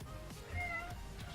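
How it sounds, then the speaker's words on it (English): A house cat gives one short, faint meow indoors, over a steady low background hum. "My cat's in here if you didn't guess."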